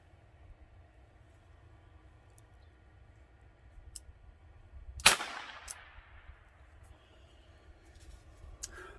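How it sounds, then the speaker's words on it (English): A single primer pops inside a Ruger SP101 revolver case, one sharp loud crack with a brief ringing tail, set against a quiet room with a few faint clicks before and after. "I'm going to fire off this primer just so that you guys can hear what it sounds like"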